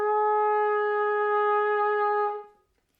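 A brass valve instrument sounds a single steady, sustained B flat tone for about two seconds, clear and close, then cuts off and fades into silence.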